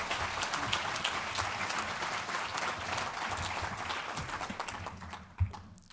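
An audience at the Freedom House annual awards applauds warmly for the outgoing president, Michael J. Abramowitz, in a steady, full round of clapping that fades out near the end.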